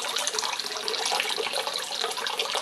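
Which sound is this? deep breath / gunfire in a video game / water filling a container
water filling a container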